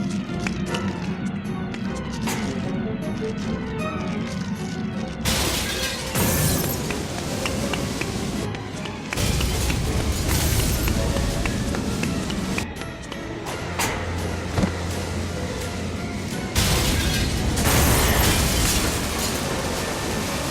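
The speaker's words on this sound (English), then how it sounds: "it just exploded. Enough to destroy the pressurized glass." Explosion shattering pressurized glass in a marine exhibit in Jurassic Park: The Game, a dense roaring blast with crashing debris and rumbling that stays loud and sustained throughout, no talking.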